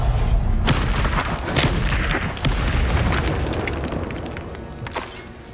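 Loud, booming blasts from the Confringo spell in a Harry Potter video game, several heavy explosive bursts with crackling debris and a dense rumbling roar that slowly fades.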